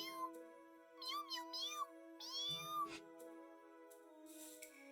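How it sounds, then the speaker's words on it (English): Cheagle creatures in Tales of the Abyss giving high, wavering cat-like meows, several short calls over a sustained tonal game music bed. "They're just cats."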